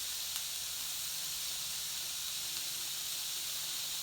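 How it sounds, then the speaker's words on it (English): Garlic and onions sautéing slowly over very low heat in avocado oil, giving a steady, even hiss that stays constant throughout with no voices. "in the garlic and the onions in a slow saute"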